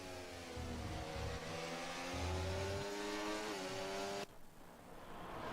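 Onboard engine of a race car in a Horizon racing video game, revving hard through the gears with rising pitch sweeps, then cutting abruptly before building again, loud and close.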